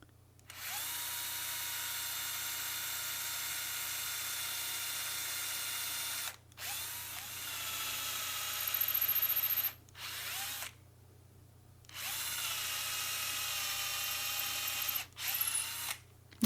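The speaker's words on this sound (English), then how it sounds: "And I do that by using bigger and bigger drills." Power drill boring progressively larger holes for threaded bolts in acoustic guitar wood, running in several loud sustained bursts separated by short pauses, close up with no talking.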